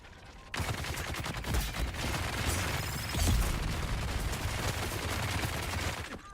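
Rapid, dense bursts of automatic turret gunfire in the video game Dune Awakening, sustained and loud for several seconds with clattering mechanical layers, no talk.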